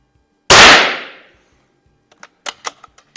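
A single sharp, loud rifle shot from an Izhmash CM-2 or Anschutz 1827 biathlon rifle rings out close by and decays quickly. A few light mechanical clicks and clacks follow.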